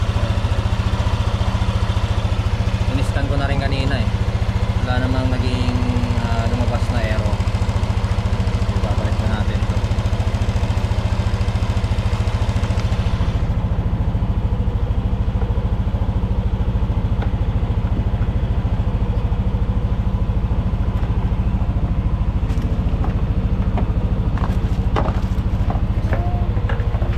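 A Yamaha Nmax V1 scooter idles steadily up close, a low even engine drone running throughout with voices talking over it.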